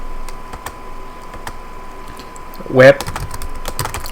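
Computer keyboard typing while coding an app, a steady patter of light clicks under a speaking voice, with a brief louder vocal burst partway through.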